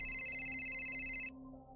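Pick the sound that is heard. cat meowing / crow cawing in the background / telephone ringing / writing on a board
telephone ringing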